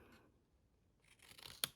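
Scissors cut tabs into a scored paper square, snipping down to the first score line: quiet near rustling builds to one sharp, crisp snip at the end, with no voices.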